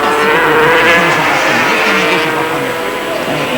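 Racing motorcycles at the 1987 Spanish Grand Prix at Jerez drone loudly and continuously, engines whining and rising and falling in pitch, with a commentator talking over them.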